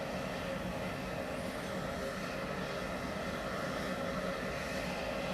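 Large airplane engines roar steadily at close range, a dense, unbroken drone that holds at the same loudness throughout with no voices over it.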